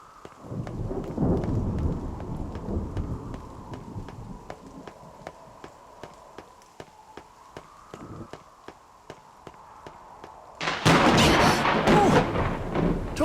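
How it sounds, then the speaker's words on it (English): Thunder in the video game NieR Reincarnation: a steady patter of rain gives way to a sudden, loud, crashing thunderclap that rumbles on to the end. "Uh-oh. That sounds like... We got thunder coming."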